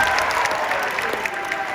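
Audience at a high school concert band winter concert applauding a tenor sax player, a steady, loud wash of clapping from a sizable crowd throughout.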